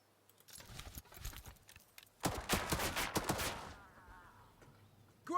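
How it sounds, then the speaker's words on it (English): Scattered rifle gunfire from WW2 infantry riflemen in the Headquarters WW2 strategy game: a few quick crackling shots, then a louder dense burst of overlapping reports trailing into a faint fading echo. "So we're going to move up with our infantry unit, our riflemen, and let's take some shots at the enemy"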